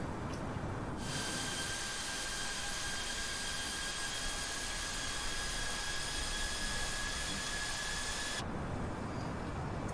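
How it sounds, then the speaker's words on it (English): Airbus A321 jet engines climbing out in Microsoft Flight Simulator, heard as a steady, broadband roar with a sustained high whine through the middle. The sound stays even and unbroken, with no speech. "And the aircraft will climb out."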